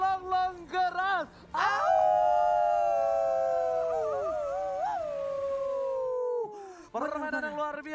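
A wolf howls loudly in the game Mobile Legends, one long sustained wavering howl after a few short yelping calls, with more yips trailing at the end over a faint bed of in-game noise.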